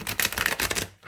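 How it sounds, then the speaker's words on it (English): Light Seers Tarot cards being shuffled by hand, a quick run of dense papery riffling flicks lasting about a second, close and fairly loud, then stopping abruptly. "I like to do 3 shuffles to clear the deck"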